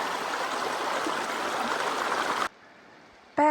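A creek zigzagging through a canyon flows in a steady, broadband rush of water close by, then cuts off abruptly, leaving near silence before a brief sharp sound at the end.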